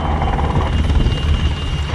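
A helicopter hovers at the RIAT airshow while survivors are winched up, its rotor and engine making a loud, steady, broadband roar that holds continuous and unbroken.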